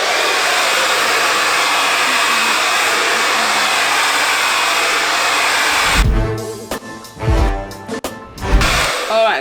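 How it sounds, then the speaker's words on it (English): A hair dryer blows steadily and loudly on a child's long hair for about six seconds, then gives way to rustling, handling noises and brief bursts of airflow as the hair is worked in sections. "That is your hair blow dried."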